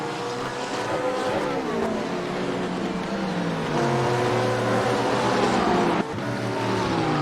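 Porsche GT3 race car engines in a sim racing game at Misano World Circuit, Blancpain GT3 series, several cars revving and shifting gears with overlapping rising and falling whines, steady and loud, no talk.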